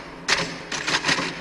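A manual typewriter in The Shining, a few loud mechanical clacking strikes in an uneven rhythm, close and clear with no talking.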